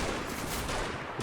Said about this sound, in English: MG42s or 34s. They're so deadly and so much firepower that it makes it really hard to advance in the face of them.